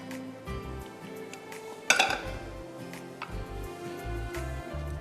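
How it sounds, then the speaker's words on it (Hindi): A spatula or wooden spoon scrapes a cooking pan of carrot kheer, making soft, quiet scraping and clinking contacts with one sharper metallic scrape partway through. "अच्छी तरह स्क्रैप करिएगा इसको स्पैचुला से या वुडन चमचे से"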